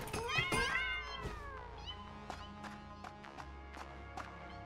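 Several cats meow in a video game, a run of rising and falling cries early on followed by a string of shorter, sharper meows and light taps, fairly close with a steady background hum.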